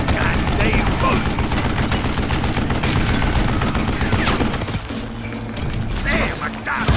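Dense, continuous gunfire from the Call of Juarez: Gunslinger video game, a loud sustained barrage of shots and clattering mechanisms that thins briefly near the end, with game dialogue shouting over the fighting.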